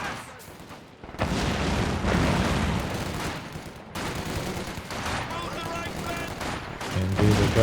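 Rapid bursts of machine gun fire and scattered gunshots crackle through a Company of Heroes 2 2v2 battle, with sustained rattling volleys and booms rising after a brief lull, mixed under a commentator's excited narration.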